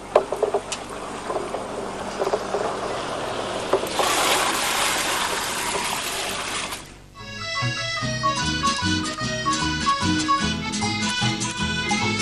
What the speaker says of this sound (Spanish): agregamos el resto del agua que hace falta